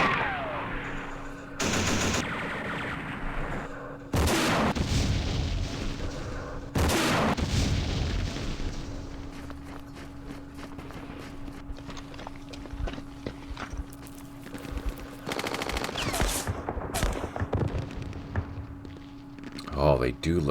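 Gunfire from a Campaign Series Middle East war game battle, sharp bursts and shots recurring across the stretch alongside clattering, some overlapping ongoing talk.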